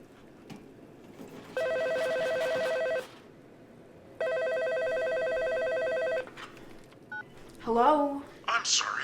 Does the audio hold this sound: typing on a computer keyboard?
no